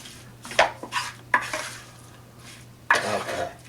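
Stirring a salmon burger mixture with apple, curry and Italian parsley, heard as a few scraping, clattering strokes in a bowl, spaced irregularly and fairly close, with quiet gaps between them.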